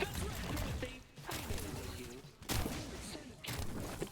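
A shotgun fires in the video game High On Life, heavy booming blasts coming in separate bursts about a second apart, loud and close over background game noise.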